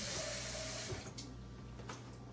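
Tap water running steadily as a little water, about a third of a cup, is added to a garlic-seasoned tortellini mixture in a home kitchen; a close, continuous pour that eases off near the end.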